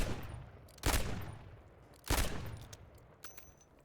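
Video game gun firing two separate loud shots about a second apart, each a sharp crack followed by a decaying echo, with faint game sounds between them.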